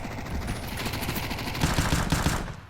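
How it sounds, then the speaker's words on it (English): Rapid bursts of MAC-10 submachine gun fire in a Counter-Strike match, a dense automatic rattle of closely spaced shots that grows louder toward the end. "Sending Mac 10 bullets flying through it"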